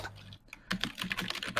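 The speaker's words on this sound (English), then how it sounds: "Who's typing?" A computer keyboard clatters under quick typing, with fast irregular bursts of close keystrokes after a brief pause and no talking.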